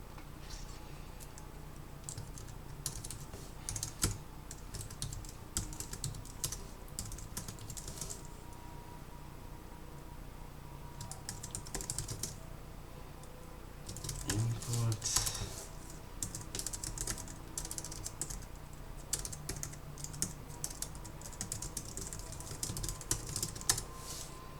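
Fingers type on a computer keyboard during a programming session, producing soft, continuous key clicks in uneven bursts with brief pauses, all fairly quiet and close.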